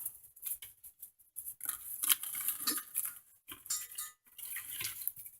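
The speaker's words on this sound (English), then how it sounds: "when I'm emptying trays, I put the lid underneath in case anything falls through" Light clattering and pattering as dried green onion and mushroom pieces are emptied from food dehydrator trays onto a lid beneath, with irregular bursts of rustling and tapping close by and no talking.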